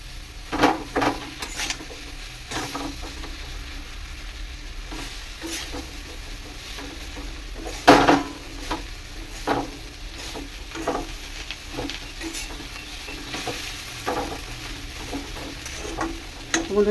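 Leafy greens (shak) cooking in a pan, a soft continuous sizzle broken by frequent stirring scrapes and clinks of a utensil against the pan, with one louder knock midway.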